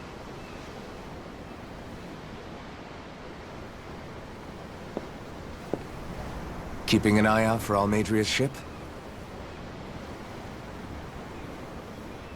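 Ocean waves wash steadily beneath a ship's deck in the Tales of Arise game world, a continuous soft surf hiss that runs the whole time under a brief spoken exchange between characters.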